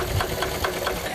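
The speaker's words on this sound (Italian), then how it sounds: "è bello silenzioso, è un monocilindro e lavora sull'iniettore, l'accelerazione avviene su una cremaliera dell'iniettore, il motore è raffreddato ad aria" An air-cooled single-cylinder injector tractor engine runs steadily, with an even knocking pulse of about four beats a second and a mechanical clatter, close and loud, no voices.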